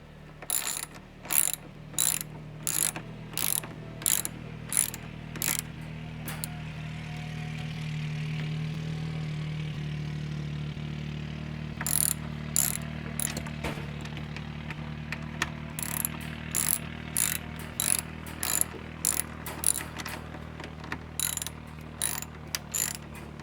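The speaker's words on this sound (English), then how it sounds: "And then ratchet it down." A hand ratchet being cranked down during tractor barn construction gives quick bursts of sharp metallic clicks, close and loud, with a pause of low background hum in the middle before the rapid clicking resumes.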